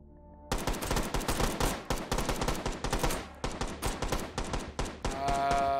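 Rapid bursts of gunfire from a virtual firearm in the VR shooter H3VR, Take & Hold mode, loud and close, with dense repeated shots over about five seconds and a ringing tail at the end.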